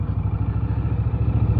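Indian Scout Bobber 2023 motorcycle engine idling close by, a steady low throbbing pulse with a rough, even rhythm and light mechanical clatter, loud and alone with no talk.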